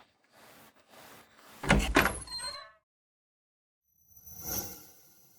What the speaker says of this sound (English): I'll open the door.